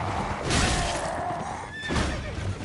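An enemy's horse in Elden Ring gives a loud, drawn-out whinny and then a second shorter neigh, with in-game rumbling and effects underneath, up close and without speech.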